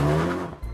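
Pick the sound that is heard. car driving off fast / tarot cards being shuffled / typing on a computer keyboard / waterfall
car driving off fast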